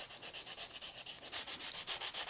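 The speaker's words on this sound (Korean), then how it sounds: "이 가장자리를 저희 베벨로로 깎는 것처럼 살짝 갈아서 조금 부드럽게 만들어 주시는 게 좋아요." The edge of a zipper card wallet template is sanded smooth by hand, a close, rhythmic series of about a dozen even abrasive strokes, steady and alone.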